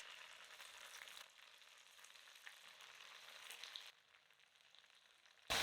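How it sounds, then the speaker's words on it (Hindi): Snacks shallow frying in oil in a pan over a medium flame, a steady broadband sizzle that holds throughout, easing slightly near the end before a brief louder burst. "हम शैलो फ्राई करने वाले हैं।"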